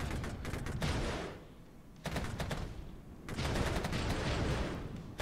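Volleys of infantry gunfire in the war game Regiments, dense crackling rifle shots in bursts that swell, briefly thin out, then return loud and sustained.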